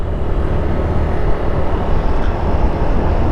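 A small camera drone hums steadily at a stopover near Mt Malico on the road toward Ambuklao Dam, the rotor whine close and continuous with a broad, even rushing tone throughout.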